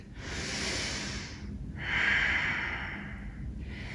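Deep, forceful breaths drawn and released through the nose during a flowing yoga sequence, two long rushing exhales close to the mic with a third starting at the end, no talking.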